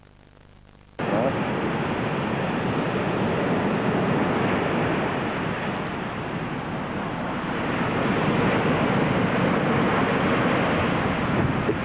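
Wind suddenly rising outdoors on a cold day after a still spell, a loud, broad roaring gust that buffets the microphone and holds steady, swelling slightly toward the end, with no voices.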